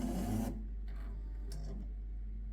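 A Jura E8 bean-to-cup coffee machine finishes a drink: a brief loud grinding rasp, then quieter intermittent hissing and clicking as it winds down, with no one speaking.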